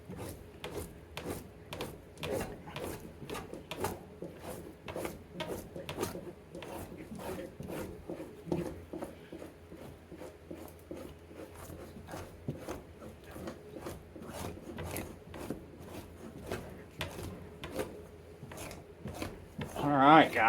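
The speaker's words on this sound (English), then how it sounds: "run a file across it flat to knock that edge off" A hand file scraped flat across the edge of a steel fleshing tool, a regular series of short rasping strokes repeating steadily at close range for about twenty seconds.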